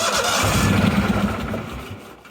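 A neglected 1998 Yazoo YTKC22 three-wheel riding mower cranks on battery boost, its engine churning loud and close in a rough, continuous grind that loses strength toward the end.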